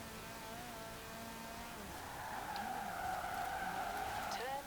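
Car tires skid and squeal while drifting through sharp turns in Forza Horizon 4, a sustained rising screech over steady engine drone that grows louder in the second half.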